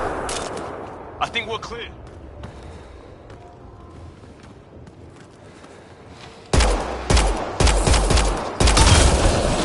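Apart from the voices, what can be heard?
gunfire shooting a Kett device in video game Mass Effect Andromeda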